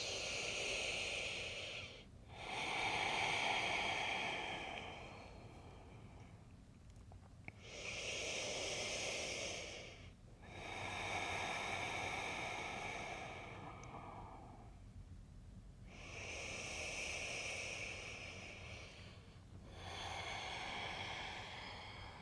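Slow, deep breathing during a prenatal yin yoga session: long soft inhales and exhales with an airy hiss, alternating with quiet pauses in a steady rhythm, close and gentle.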